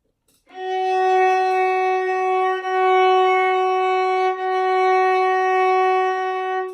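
A single sustained violin F sharp bowed on the D string, steady and clear, with slight swells at bow changes, played alone with no talking.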